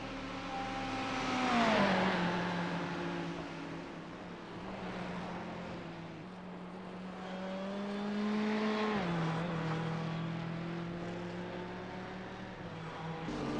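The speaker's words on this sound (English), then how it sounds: "Brendan Ryan running a real nice Ferrari tonight" Ferrari race car in Caterpillar livery, yellow, red and white, driven on a race track at night; engine drones steadily with pitch rising and dropping through two acceleration and downshift cycles, moderately loud with no voices.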